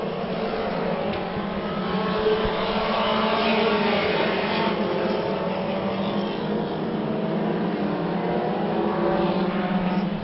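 Mini stock cars race a 100-lap main event at Orange Show Speedway, their engines a steady loud roar that swells and holds throughout, with a crowd-like wash behind and no clear voices.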